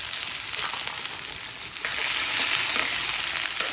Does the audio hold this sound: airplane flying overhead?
no